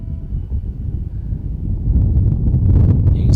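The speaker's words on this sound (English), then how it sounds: "You can see that wind ripping through Calvin's locks." Strong wind buffets the microphone on an open disc golf course, a steady low roar that grows heavier through the clip, with a brief higher rustle near the end.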